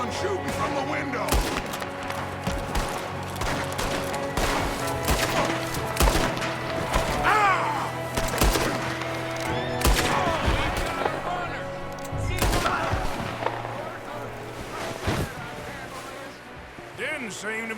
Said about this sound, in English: there's another one shooting from the window